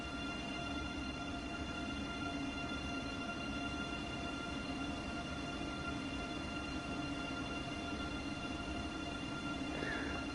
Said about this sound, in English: I don't want the train to stop. I just want to just sort of cruise, get into the city.